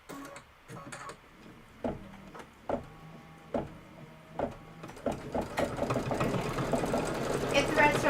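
A domestic sewing machine with a quarter-inch foot stitches quilt pieces in short bursts, each start a sharp whir, then settles into a steady, faster run near the end.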